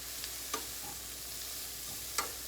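Thin food frying and tossed in a pan, a steady broad sizzle throughout, broken by a few soft clinks and scrapes as it is stirred.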